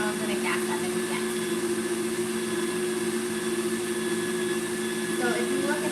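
A stand mixer whipping macaron meringue at high speed, a steady loud motor whine with a constant hum running unbroken from start to finish.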